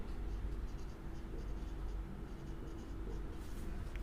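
A pen scratching across paper while entries are written out for an accounting problem: continuous close, dry scribbling strokes with no talking.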